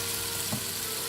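Chopped garlic fries in a hot pan with a dense, steady sizzle and a brief soft bump of movement midway, close and continuous.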